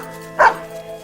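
A single short dog bark, loud and close, from a coonhound named Rip in a radio drama about a coon hunt, standing out over a steady low hum of background ambience.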